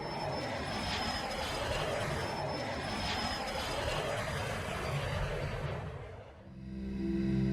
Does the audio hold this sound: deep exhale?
no